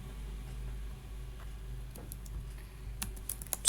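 Steady clatter of fingers on a computer keyboard as a web address is entered, quick close key taps throughout with a few sharper clicks near the end, no talking.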